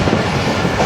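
The Shalimar Express rolls past as it overtakes the Hazara Express at Dera Nawab station, a loud, continuous rumble of wheels and carriages close by with no voices.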